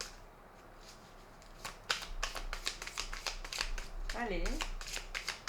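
Tarot-style playing cards drawn and laid out on a table, a scattered series of quick crisp snaps and slaps of card against card, close and fairly quiet, with a French-speaking voice talking softly over them.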